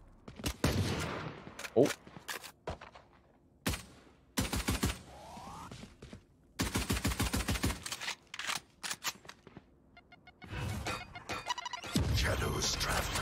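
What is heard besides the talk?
gunfire in an esports shooter video game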